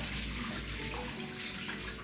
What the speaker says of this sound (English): So let me rinse out this water and then wash it like